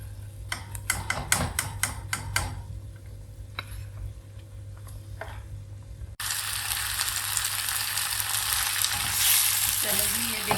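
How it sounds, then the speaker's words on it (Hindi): Chicken for spicy chicken Manchurian fries gently over a low flame, opening with a quick series of sharp clacks from a utensil against the pan, then a steady, close sizzle that grows louder and fuller, no talking. "इसको इस तरह आपने करना, हल्का हल्का ब्राउन ना, ज़्यादा नहीं करना, और हल्की आंच पे कि चिकन अंदर तक गल जाए"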